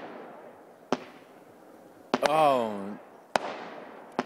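Cherry bombs and fireworks go off outside at night in a few sharp, loud bangs spaced apart, with a voice crying out between the blasts.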